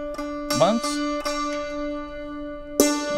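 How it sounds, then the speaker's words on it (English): A santoor string tuned to the D note rings out after a few light hammer strikes, its steady pitched tone sustaining and slowly decaying, with a brief spoken interjection and a final struck accent near the end. "then it sounds like this, the D note."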